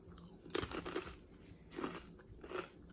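Crunchy snacks being chewed up close, in three bursts of crisp crunching separated by short pauses, with no talking.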